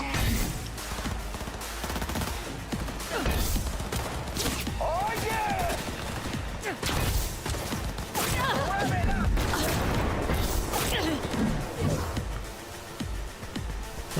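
Gunfire in the video game Cyberpunk 2077, set in Night City: repeated loud bursts of shots and rapid automatic fire with sharp impacts, continuing through the whole stretch alongside character voices.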